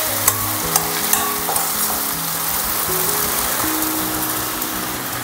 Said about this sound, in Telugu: లో ఫ్లేమ్లో పెట్టుకొని ఇదంతా ఒకసారి మిక్స్ చేసేసుకోవాలి